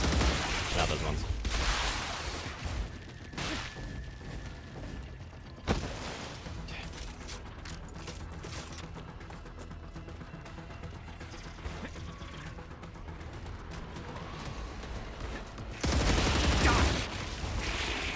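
Pistol fire in the video game Star Rupture, with scattered sharp shots cracking over a busy background of game noise and mechanical clatter, ending in a louder burst.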